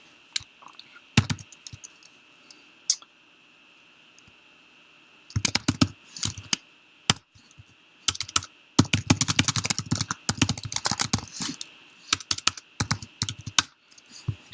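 Typing an email on a computer keyboard, with sparse key taps at first, then dense bursts of rapid clicking close to the microphone, under a faint steady whine.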